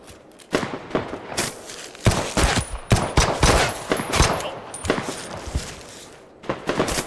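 Rapid bursts of video game gunfire in a shooter match, loud and close, with clustered volleys and short pauses between them, followed by quieter thuds.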